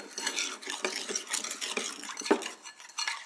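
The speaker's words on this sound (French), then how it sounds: "Je mélange bien." A spoon scrapes and clinks steadily around a bowl, stirring a mixture for Thai kuay thiaw beef meatball soup, in close, continuous rhythmic strokes.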